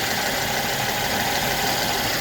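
Steady, even idle from a 2014 Mercedes-Benz ML350 engine after misfire repair, a loud close-up hum with constant texture throughout and no voices.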